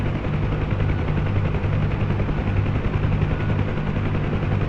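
UH-1 Huey helicopter in the DCS combat flight simulator, hover taxiing: a steady, loud rotor drone with a low, pulsing thump that holds unbroken throughout, no voices.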